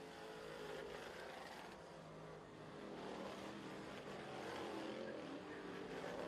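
A dirt track race car roars down the front straightaway, its engine a steady, distant, fairly faint drone that swells slightly as it passes, with no one talking.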